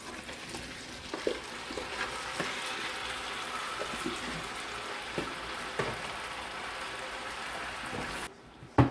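Apples cooking down in a pan with butter, brown sugar, salt and vanilla for apple streusel give a steady close sizzle with scattered small pops and crackles throughout, and no voices.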